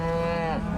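A single cow's long, loud, close moo on a California cattle ranch, a sustained low bellow that fills the moment.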